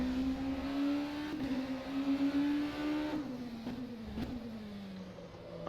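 Race car engine in the rFactor 2 racing sim, testing on the laser-scanned Le Mans track, holding a steady high drone through the clip, pitch wavering and dipping with brief downshifts near the end.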